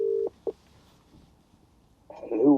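A phone dialling out to call a friend: two short, loud, steady dial tones near the start, a quiet gap, then a voice starts speaking at the end.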